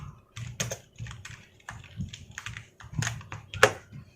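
Typing a QB64 program on a computer keyboard, a close, irregular run of crisp key clicks in short bursts with brief pauses, ending in one louder keystroke.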